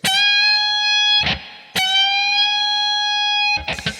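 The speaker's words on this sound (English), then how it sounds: "I'm going to put my ring finger on the 20th fret of the B string" Two sustained, distorted electric guitar notes ring out, each a full-step bend on the 20th fret of the B string, and each is followed by brief scratchy picking noise.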